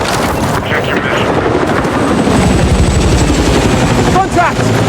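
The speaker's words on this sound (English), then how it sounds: "Contact! Enemy helicopter!" An enemy helicopter in a video game passes over with a loud, dense rotor thrum and engine roar, the chopping beat strongest near the end, and people talk over it.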